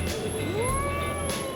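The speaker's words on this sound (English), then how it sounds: "There is a cat right below my foot" A cat meows close by beneath someone's foot in a Mumbai street during Ramazan, one drawn-out rising-and-falling cry over steady background noise.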